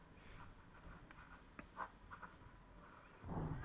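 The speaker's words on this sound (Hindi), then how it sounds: "अब ये लिखना है तो लिख दीजिए" Pen scratching across paper while working through a geometry problem on heights and distances, faint soft strokes in short irregular bursts with no voices.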